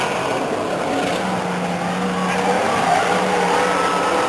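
Stock cars race past the grandstand at Stockton 99 Speedway, a loud sustained engine roar with a droning tone that swells slightly toward the end.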